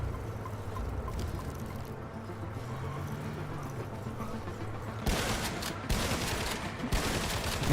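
Gunfire bursts in John Carpenter's Toxic Commando, a co-op shooter, erupting over a steady rumbling vehicle-and-ambience bed and growing louder and denser in the last few seconds.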